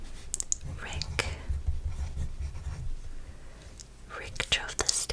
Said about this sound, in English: let's write down our names